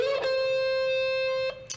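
Electric guitar playing a sustained slide note on the B string, picked down then up, with a bright attack near the start and another pick around the end, clean and close.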